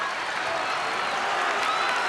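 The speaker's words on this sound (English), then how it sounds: "Potsdam State in the lead, and the crowd is coming back to life" A crowd at a 1981 NCAA national championship basketball game between Augustana and Potsdam State cheers and applauds, a dense steady roar of clapping filling the arena.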